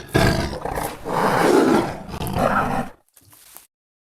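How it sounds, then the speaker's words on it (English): A Bengal tiger roar from a sound-design plugin: two long, rough, throaty bellows close up and loud, ending in a short, quieter rumbling growl before silence. "I'm going to go up to the Bengal tiger"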